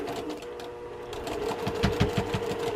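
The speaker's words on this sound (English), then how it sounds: "You can hear the machine going through that intersection." A sewing machine stitches slowly through the bulky seam intersection of a quilt block, its motor hum steady with a run of rhythmic needle thumps growing louder toward the end, close and alone.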